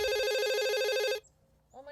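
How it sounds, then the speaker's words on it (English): A telephone rings at a wildlife sanctuary, one long loud electronic trill lasting over a second, then cutting off into near silence before a faint voice begins. "Looks like we're getting a phone call right now."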